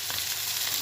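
Ginger and garlic sizzle with onions in a hot pan, a steady bright frying hiss heard up close with faint stirring and no talking.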